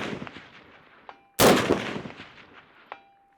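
A single loud rifle shot cracks out at a shooting range, with a ringing tail, amid fainter distant shots and a small metallic ping from a struck target.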